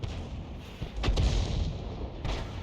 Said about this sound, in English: again his shells are landing nowhere near the target